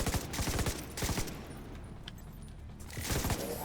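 Suppressing gunfire in a video game: short, sharp bursts of rapid shots crackle at the start and again near the end, with quieter background noise between them.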